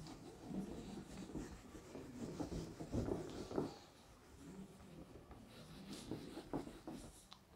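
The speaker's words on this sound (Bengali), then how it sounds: "ফাইনাল যেটা বেরোলো এটা এখানে লিখে রাখি" Pen writing on paper during a Class 8 mathematics lesson on cubes, a steady scratchy rubbing with short strokes and pauses, close and fairly quiet, with no talk.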